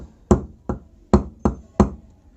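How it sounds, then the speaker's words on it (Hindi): A hammer strikes a centre punch to mark a metal workpiece: five sharp, close metallic knocks in an uneven rhythm, each ringing briefly before the next, with no talking. "यहां देखिए पंच के द्वारा इसमें निशान कंप्लीट हो चुका है"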